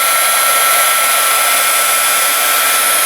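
A heat tool blows a steady, loud, hissing stream of hot air while melting embossing powder on a card, unbroken for the whole few seconds.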